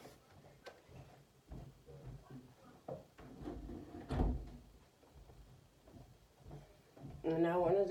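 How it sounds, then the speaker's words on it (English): A door is pushed shut indoors, giving one dull thud midway through, with softer knocks and quiet speech around it. "I wanted to go ahead and shut my door"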